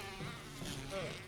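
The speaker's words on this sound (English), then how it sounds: "Bugs." Insects buzzing in the survival horror game Resident Evil 1, a steady droning hum with a brief higher whine near the end, heard at low volume with no talking.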